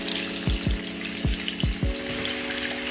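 Potatoes sizzle and fry in a pan with a steady crackling hiss, broken by several soft thumps as pieces are dropped or stirred in.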